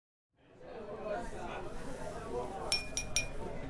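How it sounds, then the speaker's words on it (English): A team leader taps a glass, two bright clinks standing out near the end over a steady babble of chatter in a meeting room. "team leader Daniel holds up a hand and taps a glass"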